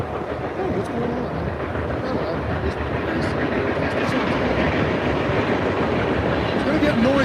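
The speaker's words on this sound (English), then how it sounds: "There's a train going by right there" A train passes near a road during a freedom convoy drive, a steady broad rumble that builds slightly over several seconds, heard from inside a moving vehicle with no talk.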